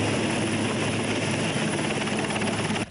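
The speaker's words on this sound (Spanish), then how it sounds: "el helicóptero presidencial aterrizó en la isla de Muisne" A presidential helicopter lands on the island of Muisne, its rotor and engine roar loud, close and continuous with a rapid blade chop throughout, cutting off sharply at the very end.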